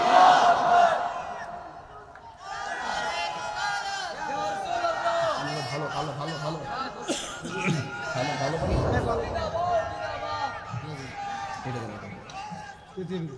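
A large crowd at an outdoor Islamic sermon gathering roars Allahu Akbar in unison in reply to a takbir call, a loud, swelling mass of voices that rises, dips and surges again alongside a preacher's amplified voice.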